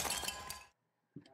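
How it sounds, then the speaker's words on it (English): A broken-glass sound effect from a WWE Raw wrestling broadcast, heard as a loud, bright shatter with tinkling debris that cuts off into silence before a brief dull thump. "like the little woken screen and broken glass"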